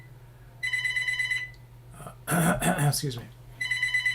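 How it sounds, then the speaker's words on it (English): A telephone rings with bright repeated electronic trills, stopping while a person briefly speaks and clears their throat nearby, then ringing resumes near the end. "Man, this phone, it's like a telemarketer or something."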